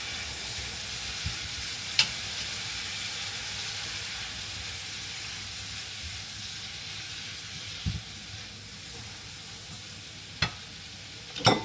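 Spices frying for a goat curry sizzle and hiss steadily in a pan, with a few sharp knocks as they are stirred, loud and continuous with no talking.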